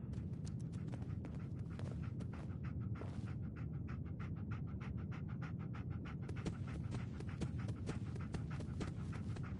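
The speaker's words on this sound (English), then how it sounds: "Dog meat. Get the scent, boy." Dogmeat, the dog companion in the video game Fallout 4, panting steadily and loudly close by through the whole stretch, with dense rapid breaths over a low ambient game rumble and a few footstep-like taps.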